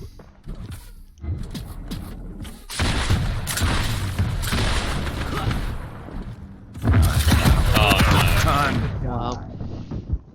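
Rocket fire and explosions from a Quake Champions match crash in loud, dense bursts, with repeated booms and thuds rolling into one another in two heavy waves and brief quieter gaps between.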